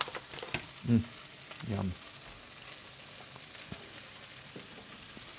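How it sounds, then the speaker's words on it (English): Carnitas fry with onions in a pan, giving a steady close sizzle with a few soft stirring clicks; a voice briefly speaks over it. "I'm going to drop in my carnitas and let that fry up too."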